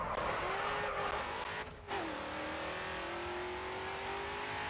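A race car drifts through a corner in Race Driver Grid 2, its engine holding a steady loud drone that dips briefly as the revs fall and then climbs again, with a hint of tire squeal and no voices.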